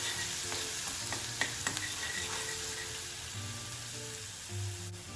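Ginger, chili and garlic paste sautéing in oil in a pan, a constant close sizzle with repeated spoon stirs and scrapes.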